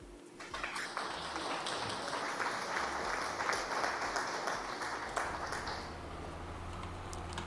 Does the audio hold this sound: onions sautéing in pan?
no